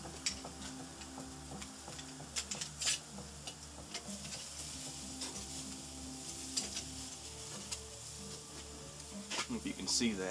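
Pork chops fry in a pan with a steady, soft sizzle and scattered crackles and pops, heard fairly close beneath a constant low background hum.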